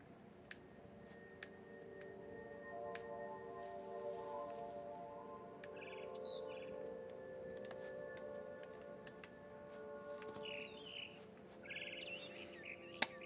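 A small bird, pursued by a cat, lets out a few faint, brief chirps at intervals over a steady tonal hum and scattered light ticks, with no voices.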